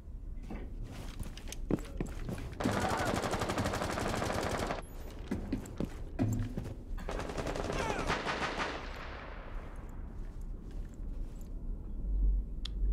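Gunfire in a Rainbow Six Siege tournament match: several loud bursts of automatic fire with scattered single shots in between, and footsteps and other game noises over a busy background.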